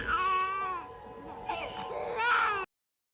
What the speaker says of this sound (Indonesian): aksinya itu terhenti oleh tangisan bayi yang memakai alat oksigen di hidungnya